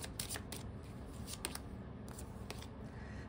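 Tarot cards are drawn from a deck, heard as quiet crisp snaps and soft papery slides, close and faint against a low background hiss.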